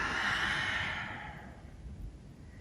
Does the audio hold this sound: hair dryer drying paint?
no